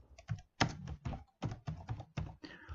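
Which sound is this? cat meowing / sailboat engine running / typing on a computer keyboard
typing on a computer keyboard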